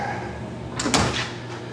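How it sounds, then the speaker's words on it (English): The enclosure door of a Haas UMC 5-axis CNC mill slides shut with a short metallic rolling scrape and a soft clunk, heard close over steady machine hum. "I'm going to close the door here"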